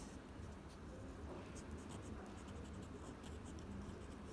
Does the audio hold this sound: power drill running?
no